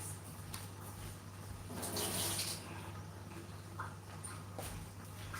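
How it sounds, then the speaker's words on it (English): Salt water drains off chopped vegetables into a sink, giving a steady close splashing pour with a brief louder gush partway through and a low background hum throughout. "I'm gonna drain off the salt water of my veggies"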